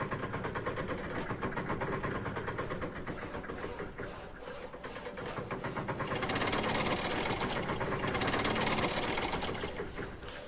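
Steam locomotive engine running in the train game Railroad Online, a steady rhythmic chuffing and mechanical clatter that swells louder partway through, heard alone without talk.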